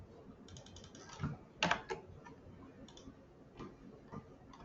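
Someone types a website URL on a computer keyboard, giving a light, irregular run of close keystroke clicks with a brief louder cluster near the middle and sparse taps after.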